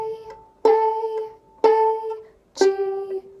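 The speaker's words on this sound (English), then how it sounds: "the next best step would be to play it pizzicato" Violin notes plucked pizzicato on the D string, three distinct plucks each ringing briefly and decaying, close and fairly quiet with no talking.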